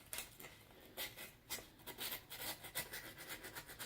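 Rusted metal sanded with sandpaper by hand, a close rhythmic run of scratchy rubbing strokes in quick back-and-forth bursts, fairly quiet and with no talking.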